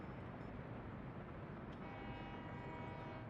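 A low continuous rumble of a train rolling in on a rail line in Workers & Resources, steady and moderately distant, with a faint tonal hum building in the second half and no talk over it.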